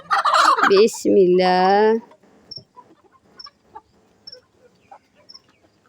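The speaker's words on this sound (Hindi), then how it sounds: "पहले पहले मुर्गियों को खोलते हैं ना बेटा" Hens clucking and gobbling as they are let out of their coop at a home, a loud burst of calls up front followed by scattered softer clucks, with a brief spoken word at the start.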